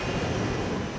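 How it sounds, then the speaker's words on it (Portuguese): Fokker 100 airliner accelerating down the runway on takeoff, a steady, loud broadband engine roar with a constant drone and no breaks. "Conforme o avião acelera na pista"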